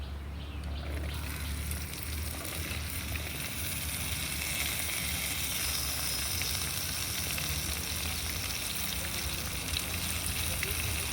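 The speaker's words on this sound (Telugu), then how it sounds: "బెండకాయలు వేపుకోవాలి." Okra (bendakaya) frying in oil in a pan while making roti pachadi: a steady, close, dense sizzle that runs unbroken throughout.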